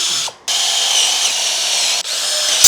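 A power drill drives a screw to fix an omega strip to an angle edge, a loud, close, high whine running steadily with a brief stop near the start and another short dip midway.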